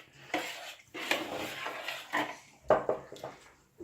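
Slime being mixed by hand in a bowl, giving wet squishing, stirring and clattering sounds in irregular bursts, close by, with no talking.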